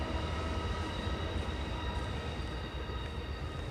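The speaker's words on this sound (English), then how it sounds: "Train going by kind of close." A train rolls past close by, a steady loud rumble of railcars holding without a break from start to finish.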